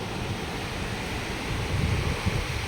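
Sea waves rolling in at high tide on Mandarmani beach, a steady loud wash of surf with wind buffeting the microphone, growing heavier toward the end, no voices.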